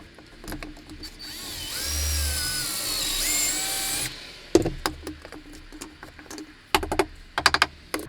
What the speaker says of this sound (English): it drills the slot in at an angle